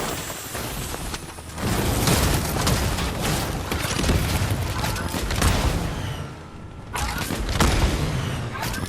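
Vehicle blown up in Fortnite: dense, loud bursts of booming explosion and rapid gunfire that fill most of the stretch, dipping briefly before another heavy blast.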